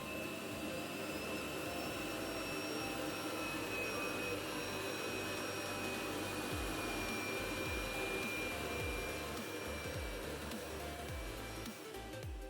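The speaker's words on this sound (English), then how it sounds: "the base will suck all of that dirt right out of it" A Roborock S7 MaxV Ultra dock base emptying the robot vacuum's dustbin, a loud, steady roaring suction with a constant whine on top and faint rattling of debris as it runs continuously.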